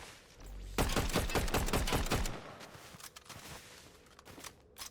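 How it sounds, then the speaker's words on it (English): Rapid automatic gunfire in the video game Fortnite Zero Build, a fast burst of sharp cracking shots followed by scattered quieter distant pops. "Oh, this guy's shooting at me now."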